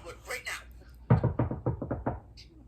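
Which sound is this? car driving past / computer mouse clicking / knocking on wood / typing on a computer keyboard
knocking on wood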